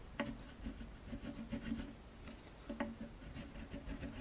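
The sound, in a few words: wax crayon rubbed over a spot on a guitar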